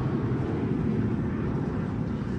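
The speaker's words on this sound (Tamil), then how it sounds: "ஃப்ளைட் போகிறதே பார்க்கலாங்க." Airplane passing low near an airport in East Tambaram, a steady broadband engine roar with strong low rumble, loud and continuous throughout without any talk.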